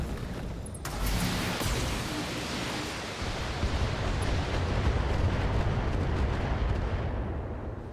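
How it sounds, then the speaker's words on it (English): An Archer mech fires artillery in a modded BattleTech battle: a sudden heavy blast opens, and a dense, roaring rumble follows for several seconds before slowly fading. "Archer fires at my hunchback, doing little damage."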